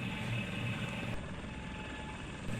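A helicopter in the FlightGear flight simulator produces a steady, even rotor and engine drone heard from inside the cockpit, constant throughout.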